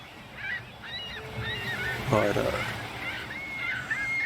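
Honking calls from a bird out at sea in a video game, repeated several times against a steady watery background, with a brief voice partway through.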